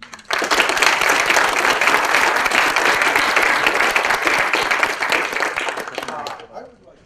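An audience claps steadily to welcome a guest to a talk, a loud, dense burst of applause that holds for several seconds and then tapers off.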